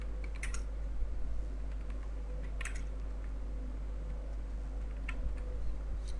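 Fingers tap on a computer keyboard in short irregular bursts of clicks while text is entered into a design program, fairly close over a low steady electrical hum, no talking.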